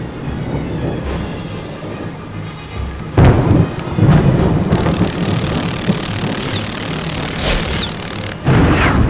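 Thunderstorm in the Harry Potter and the Prisoner of Azkaban PC game, with steady heavy rain and loud rolling thunder cracks that swell and crash several times over the downpour.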